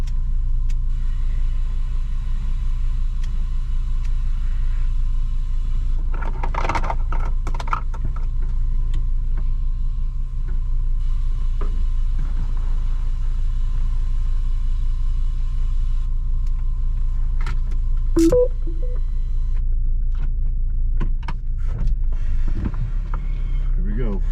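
A Volvo V70 XC AWD heading down Mount Baldy produces a steady, loud low engine and road rumble that runs the whole time, with a few brief clunks and bits of talk mixed in.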